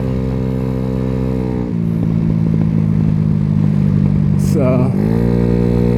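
A Venom X18 50cc scooter engine with 7.5-gram roller sliders runs loud and steady close by, its note rising as it revs midway before settling back to a steady idle, with a brief spoken word.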